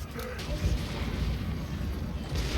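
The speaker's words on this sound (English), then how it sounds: "these guns are going to just do a ton of damage" Empire guns fire in a Total War: Warhammer battle against Greenskins, a dense rumbling barrage of booms layered over the din of a large clash, loud and continuous.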